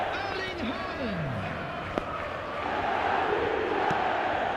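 Stadium crowd roaring in the eFootball video game after Erling Haaland breaks through in a match, a dense, steady wall of cheering that swells slightly louder toward the end, with a commentator's voice mixed in.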